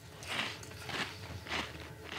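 Three crisp crunching bites into a crunchy, expired apricot cookie come in a steady rhythm, close and fairly soft, with no talking.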